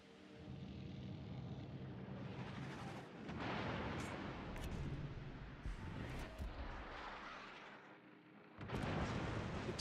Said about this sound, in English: Sixteen-inch guns of the North Carolina are an issue here.